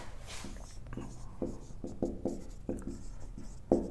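Chalk or marker strokes on a board come in a quick run of short, scratchy taps and squeaks with small gaps between them, close and fairly quiet, while a teacher works through a physics lesson.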